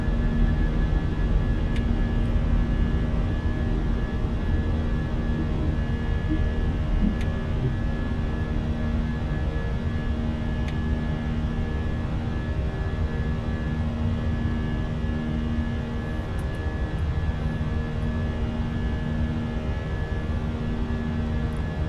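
Fenix A320 jet engines in the climb, heard in a flight simulator cockpit as a loud, steady, unbroken roar and hum holding constant with no voices over it.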